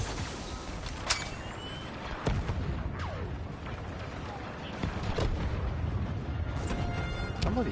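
Gunfire and blasts in Star Wars Battlefront 2 on PS4: sharp shots crack repeatedly over a dense, rumbling battle din, with a player's voice talking through it.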